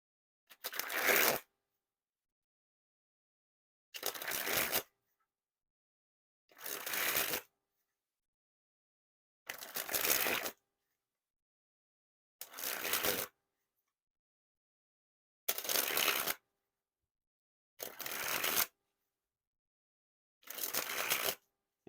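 Star Wars playing cards sprung from hand to hand in eight separate riffling bursts, each about a second long with clear gaps of silence between, close and crisp with no talk.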